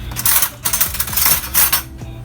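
Thick sweet potato muffin batter spooned into a metal muffin pan: a quick series of clinks and scrapes of spoon against tin, loud and close, with no talking.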